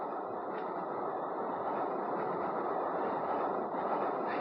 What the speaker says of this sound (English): even as our famous train rushes through the night